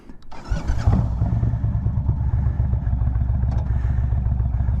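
A motorcycle pulls away in first gear, its engine firing with a low, lumpy idle that climbs into a steady putter, close and fairly loud.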